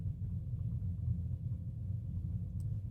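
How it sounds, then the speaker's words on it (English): Thunder rolling in near Beaumont, a low continuous rumble that stays steady and fairly loud throughout, with no distinct cracks and no talking. "Hey, Beaumont, there's thunder rolling in."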